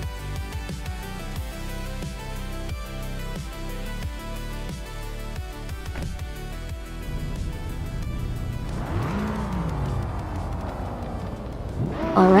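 Race cars starting a race at Magny-Cours in a racing video game, including a 2012 Lexus GS 350 and a Ford Falcon, engines revving and shifting in rising, stepping pitch, loud and continuous, with another car surging nearer at the end.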